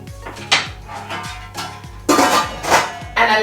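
Ingredients dropped one after another into a pot of spicy Caribbean chicken soup, giving several close, sharp clanks and splashes against the pot in an uneven rhythm, with no talking.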